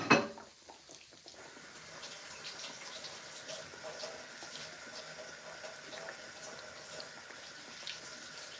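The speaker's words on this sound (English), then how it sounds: "going to wash my hands really quick" Hands being washed under a running tap in a home kitchen, a steady hiss of water into the sink that starts after a brief clatter and continues unbroken at moderate level, with no talk.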